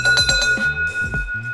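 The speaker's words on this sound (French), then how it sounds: "Une nouvelle cloche contre les ours qui marque aussi le point chance de la Nakasendo" A small bear bell jingles repeatedly on the Nakasendo mountain trail in Japan at 777 metres, close and fairly loud, with a steady ringing tone under the rhythmic metallic strikes.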